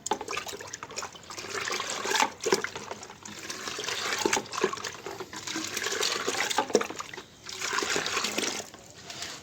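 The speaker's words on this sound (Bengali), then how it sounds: "চলো একটু গুলিয়ে নিই আগে।" Homemade plant fertilizer tea is stirred in water, giving continuous close sloshing and swirling with brief splashy surges, heard alone without talk.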